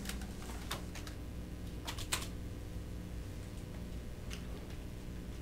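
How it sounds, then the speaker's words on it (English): A computer keyboard being typed on to enter a password at a router's login page: a few sparse, light clicks in small bursts, close by and quiet against a faint steady hum. "When you type in admin as the password, hit your enter key"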